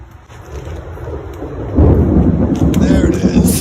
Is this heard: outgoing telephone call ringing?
no